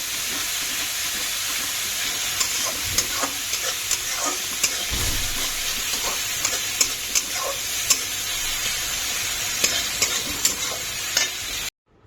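Onion, ginger and garlic masala fries in a pan as the base for boal fish, a constant hissing sizzle broken by regular stirring scrapes, close and fairly loud, cutting off abruptly at the end.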